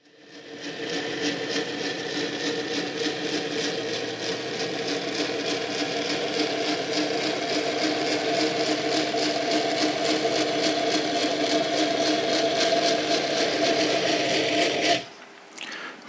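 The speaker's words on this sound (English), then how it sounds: "Makes a bit of a racket with those knurled wheels, doesn't it?" A vintage Tri-ang model locomotive runs on knurled metal wheels, making a continuous loud, rattling, rasping whir that holds steady for about fifteen seconds before cutting off abruptly.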